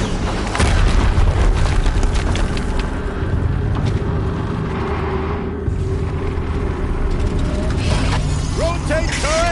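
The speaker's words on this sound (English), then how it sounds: "Another explosion." Explosions in the video game Horizon, a sustained loud booming rumble with mechanical clatter, dense and continuous throughout, with a brief dip midway before building again.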